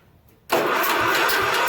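After a brief quiet moment, the engine of a junkyard Ditch Witch C99 trencher is cranked with a finger over the spark plug hole, giving a sudden loud, steady churning that runs close to the end, with no voices.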